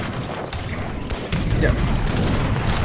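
Dense, rumbling bursts of Portuguese mortar fire from a strategy video game roll on continuously, growing heavier midway, with a brief voice over the top.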